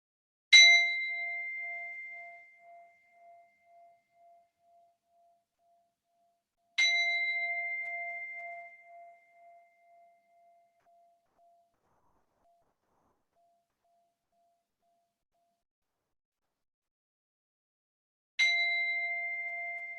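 Three singing bowl chimes closing a yoga nidra session, each a soft struck tone that rings out and fades slowly over several seconds, widely spaced in silence with the last one arriving much later.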